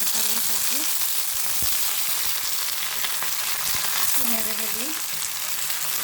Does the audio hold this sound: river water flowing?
no